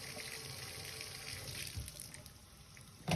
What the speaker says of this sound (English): He's going to check how quick it drains.